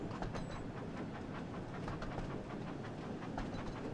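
A toy-style engine from the Thomas & Friends Wonders of Sodor video game runs along the rails with a steady clickety-clack rumble, continuous and even at moderate loudness with no voices over it.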